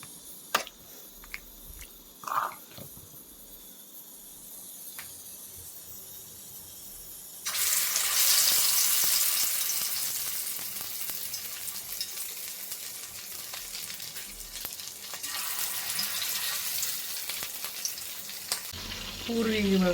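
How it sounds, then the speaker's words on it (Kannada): Kebab frying in a little oil in a pan, with steady low sizzling that rises sharply partway through and continues bubbling, alone with no talk. "ಕಮ್ಮಿ ಎಣ್ಣೆ ಇಟ್ಟಿದ್ದೀನಿ ಆ್ಯಕ್ಚುಲಿ ಕಬಾಬ್ ಹಾಕೋದಕ್ಕೆ"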